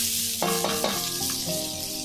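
Steady, loud sizzling of garlic and shallots sautéing in hot oil, continuous and close, with faint tonal hum underneath.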